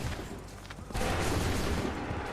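Musket volley fire in Assassin's Creed 3 bursts out as a sudden, dense, loud crackling roar after a quieter stretch of battlefield noise, then rolls on steadily.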